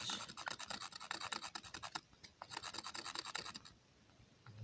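A pointed tip being ground by hand while making fire without tools: fast, repetitive rasping scratches, faint and close, with a brief pause partway through.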